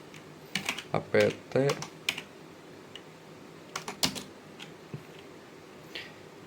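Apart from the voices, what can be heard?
typing commands on a computer keyboard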